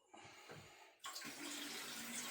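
Water runs from a kitchen tap as hands are washed, a soft trickle at first, then a steady, close, broadband splash that carries on to the end.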